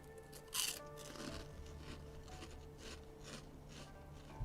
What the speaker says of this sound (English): Will you guys still be able to hear the cinnamon twist crunches?